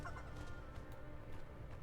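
Chickens cluck faintly in Guild Wars 2, a quiet, low-level fowl chatter buried in a dense game backdrop for under two seconds.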